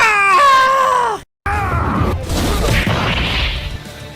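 A voice from a TV show scene lets out a loud, high, wavering fake scream for about a second, then after a short cut comes a noisy crash-like burst of clatter and rustle.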